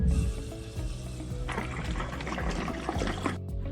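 Diesel pouring from a jerrycan through a spout into a sailboat's fuel tank, a steady continuous gurgling flow lasting several seconds, close and moderately loud with a brief break near the end.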